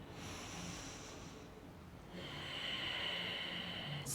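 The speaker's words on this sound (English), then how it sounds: "Find 3 more breaths here" Deep, slow yoga breathing, soft airy inhales and exhales close to the ear, the second breath slightly fuller, with no speech.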